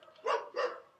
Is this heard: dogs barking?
yes